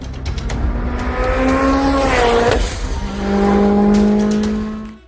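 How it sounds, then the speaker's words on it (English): A Lancia Delta S4 rally car in EA Sports WRC revs hard and loud, its engine note climbing through the gears, dipping briefly with a shift, then surging again to a sustained high wail. "that Delta S4 sounds so brutal"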